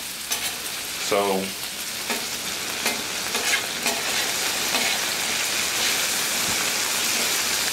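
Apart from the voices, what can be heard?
raw potatoes sizzling on a Blackstone griddle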